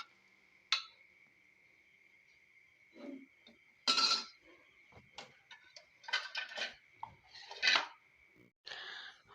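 Metal utensils clink and scrape against dishes while garlic chili rice is served, a scatter of sharp, close taps and knocks over a faint steady hum, with no voices.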